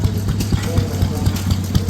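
Vintage stationary engine, the Sundial B, running at a vintage engine rally while having some trouble, a loud, close, steady low thumping beat at about four pulses per second, with voices talking over it.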